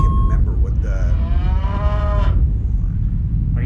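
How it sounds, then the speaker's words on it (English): A cow in a video game lets out one long, loud, close moo that rises and then fades, heard over a constant low background rumble. "Right near a cow."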